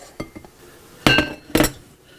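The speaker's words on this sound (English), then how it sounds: "I'm going to use my dough scraper, and I'm just going to scrape this dough out of the pan" A dough scraper works focaccia-style pizza dough out of a mixer bowl into a glass bowl: a few light taps, then two sharp clinking scrapes against the glass, close and clear.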